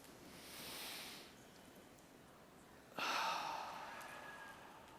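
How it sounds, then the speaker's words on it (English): A lecture-hall audience draws a long, breathy inhale together, then releases a sudden collective exhale that trails off slowly, soft and diffuse across the room. "I'd like to ask you all to take one giant deep breath with me"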